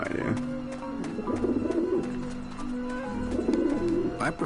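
Cooing birds gather on a roof in a video game, low throaty calls rising and falling in clusters over steady game ambience, with no speech.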